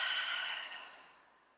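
A single long open-mouth exhale during yoga breathing, a soft breathy rush heard close and alone, starting strong and fading slowly away.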